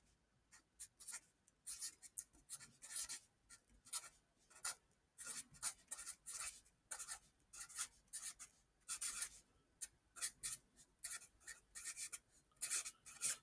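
A pen or pencil scratches across paper in quick irregular bursts while an equation is worked out by hand. The strokes are close and faint, with short pauses between them and no talking.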